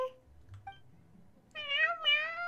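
Cats meowing in the video game Genshin Impact at the Furball Fortress, a couple of clear, close meows near the end after a quieter stretch with a faint earlier mew.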